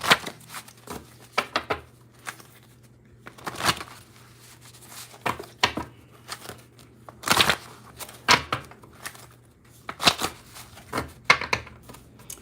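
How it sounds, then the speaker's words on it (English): Tarot cards being shuffled and pulled from the deck, in short dry riffling bursts and soft slaps at irregular intervals, close and fairly quiet over a low steady hum, with no talking. "let me go ahead and pull my cards"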